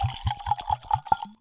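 Talisker 8 Year whisky glugs into a glass in a quick run of rhythmic, close gurgling pulses that end abruptly, with no talking.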